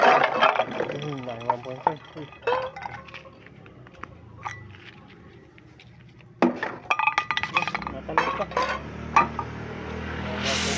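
Tin cans gathered as junk clink and clatter against one another in bursts, close and irregular, while people talk nearby in an outdoor setting.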